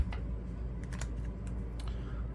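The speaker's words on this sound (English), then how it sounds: "Not anything super heavy here, just a couple of shuffles, just to make sure that we incorporate everything" Light riffle shuffles of a deck of playing cards during a tabletop baseball card game, a few quick papery flutters and taps, close and fairly quiet with no talking.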